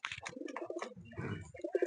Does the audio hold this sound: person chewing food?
no